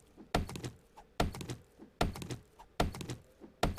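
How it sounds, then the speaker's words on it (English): An axe chopping a tree in the video game 7 Days to Die, five sharp woody thunks at a steady rhythm of about one per second, each a short cluster of crisp impacts. "Let's cut down a tree so you can see what that looks like"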